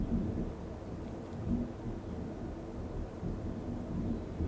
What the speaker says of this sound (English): Oh, great thunder.